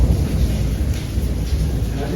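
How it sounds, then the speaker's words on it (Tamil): Heavy rain pours steadily at a Himalayan cave. The dense, close wash of water holds a constant roar for about two seconds with no clear pauses. "மழை அற்புதமாக இருக்கு"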